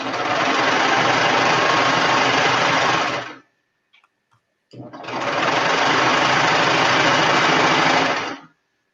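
A sewing machine stitching fabric runs in two loud, steady bursts of fast mechanical whirring and clatter, close by, with a short pause between them.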